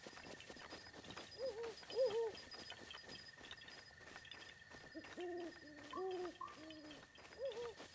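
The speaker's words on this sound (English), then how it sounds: "That owl really wants my attention." An owl hoots repeatedly in the Hyrule Castle area of the video game Breath of the Wild. Soft, wavering hoots come in short clusters over a faint steady tone and quiet background game sounds.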